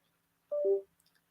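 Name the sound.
mobile phone noises while plugged into computer charging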